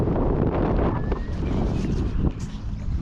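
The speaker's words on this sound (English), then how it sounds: "I'll go on the inside to keep off the wind." Wind sweeps across open water during a cheap-rod fishing outing, a steady blustery roar buffeting close against the microphone with no break for the whole stretch.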